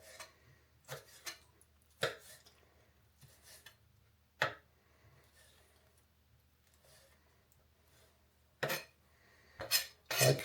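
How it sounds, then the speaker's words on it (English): A small knife chops food finely on a board. The sharp knocks and clicks are scattered and irregular, some close together and a few louder ones toward the end, with near silence in between. "use a smaller knife. It's slightly smaller than the other one. And then just chop it up"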